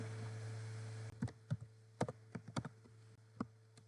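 Typing on a computer keyboard nearby, a quick run of light clicks and taps in uneven bursts following a steady low electrical hum, with no talking.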